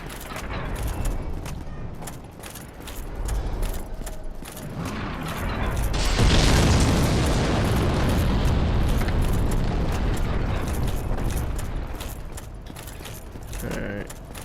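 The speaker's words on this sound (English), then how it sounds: "Because of those damn fire bombs he just keeps throwing everywhere." Fire bombs thrown by a giant explode in Dark Souls Remastered, a rumbling blast that swells in the middle and sustains as a broad roar before fading under continuing clatter.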